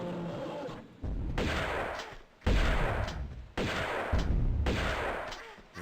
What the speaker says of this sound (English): Oh, 4 shots of the shotgun.